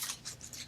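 Scissors snip through cardstock paper cut down to a small 2.5 by 3.5 size, three or four quick close crisp cuts in an even rhythm, with no voice over them.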